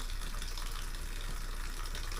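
Antifreeze pours steadily down the drain trap of a camper, a soft continuous gushing trickle of liquid, faint and close, with no talking.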